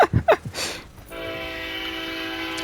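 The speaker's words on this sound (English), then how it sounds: "There's another train!" A train passes nearby, its horn sounding as a long, steady, loud tone after a few seconds of thuds and rumble, with no one speaking.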